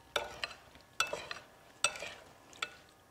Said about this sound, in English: you just keep stirring until kind of some of the white of the cornstarch turns a little translucent